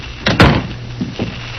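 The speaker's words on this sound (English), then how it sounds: "Come in and shut the door." A door swings and shuts with a solid thump and a short rattle, close and loud, followed by a couple of softer knocks and footsteps.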